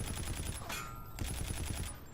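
The nv4 rifle firing in a shooter video game, a fast automatic burst of loud, sharp shots in an even rhythm, briefly broken and then resumed.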